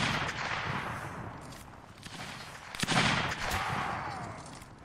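Gunfire and cannon fire in the battle video game Napoleonic Wars, a dense, distant crackle of musket shots with a sharper, louder blast near the middle, heard without talking.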